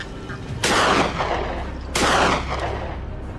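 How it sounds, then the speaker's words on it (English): Two loud rifle shots about a second apart ring out during a swamp wild boar hunt on a hillside slope, each a sharp broadband crack with a long echoing tail fading into the open air. "The shot rings out the instant it fully emerges onto the slope."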